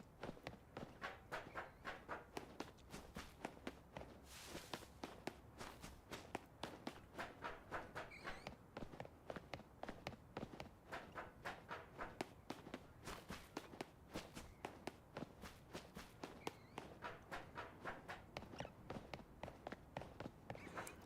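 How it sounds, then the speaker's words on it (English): Footsteps cross a bridge in Pokémon Legends ZA: a rapid, steady stream of soft, even steps pattering continuously for a long stretch, at low volume and with no talk. "Is the sound effect alright of the footsteps and crossing the bridge?"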